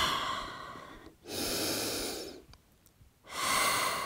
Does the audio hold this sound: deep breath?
yes